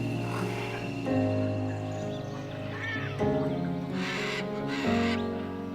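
Scarlet macaws calling at sunrise in the Copán Valley, Honduras, giving a run of loud, harsh, raspy squawks in repeated bursts, close and clear with little else around them.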